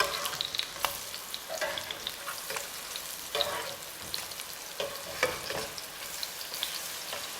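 Sweet potato pancakes fry in a pan with a steady crackling sizzle, broken by scraping and soft clatter as they are flipped, close and continuous.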